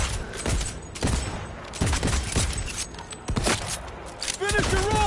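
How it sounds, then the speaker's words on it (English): Shotgun blasts ring out in Cyberpunk 2077 combat, several sharp booming shots spaced irregularly amid gunfire, with a brief vocal cry near the end. "Shotgun ought to seal the deal."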